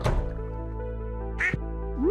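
A duck in the Stardew Valley farming game gives a single short quack, clear and fairly close, over a steady hum of game music, with a brief thump at the start.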